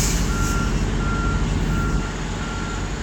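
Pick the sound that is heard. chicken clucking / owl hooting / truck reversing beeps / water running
truck reversing beeps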